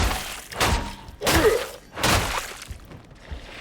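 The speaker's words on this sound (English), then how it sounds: "my shovel is quite happily just smashing through them" Heavy shovel sweeps smash through a horde of enemies in the game Darktide, giving three loud, broad crunching thuds spaced about a second apart, each with a shattering edge.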